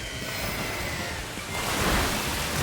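Water Spout attack in Pokémon Scarlet and Violet: a steady rushing, surf-like wash of water that swells louder halfway through, with no talk.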